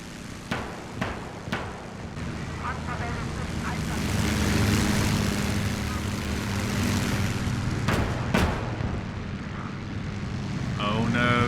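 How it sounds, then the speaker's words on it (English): Bomber aircraft in the Gates of Hell World War II video game drone overhead with loud propeller engines, swelling and holding as sharp gunshots and explosions crack around them. "They kept sending their bombers."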